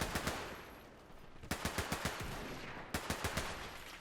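Rapid bursts of machine gun fire in a World War battle game, a Lewis gun against an MP40, coming in three quick volleys of staccato shots with short gaps, loud and close with no voices.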